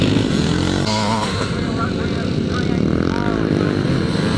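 Pre-1984 classic motocross motorcycles racing past at Penrith in the Scottish Classic Motocross, engines loud and close with rising and falling revs and a commentator talking over them.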